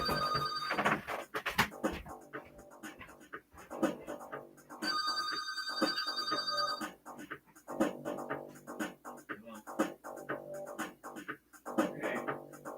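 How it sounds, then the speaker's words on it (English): A house telephone rings in repeated bursts, a bright electronic bell pattern recurring several times, with people talking between and over the rings nearby. "Got a telephone call."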